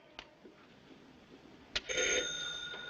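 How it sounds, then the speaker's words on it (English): Telephone bell ringing in a quiet room, a faint tap or two before it, then a loud, sustained mechanical ring that begins partway through and carries on to the end. "Oh, Mrs. Mason, do you mind answering the phone?"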